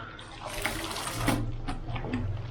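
Water sloshing and splashing as clothes soak in a basin with powdered detergent, close and moderately loud, in uneven swirls and splashes with a brief louder surge midway.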